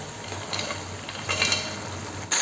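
Fried mushrooms stirred into gravy boiling in a pan, a close, steady sizzle with soft scraping stirs and a couple of brief louder bursts, no voices.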